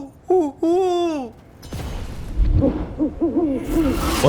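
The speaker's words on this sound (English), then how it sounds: "Another one of those owl statues." An owl statue in the video game Dragon Age: Veilguard gives two loud, clear hoots, followed by a burst of noise and then softer repeated hooting calls mixed with game sounds.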